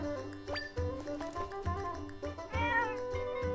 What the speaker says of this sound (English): I don't know what I was expecting, but it wasn't like that kind of a cat sound